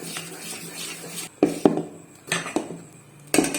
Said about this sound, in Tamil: நல்லா கலந்து விட்டுறலாம் மாவை.